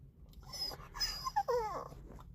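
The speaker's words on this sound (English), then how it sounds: "My dog is begging me to, whining and crying and all that" A dog whines and cries in a parked car in a supermarket parking lot, with soft breathy whimpers rising into a few high, wavering begging whines, close and fairly quiet.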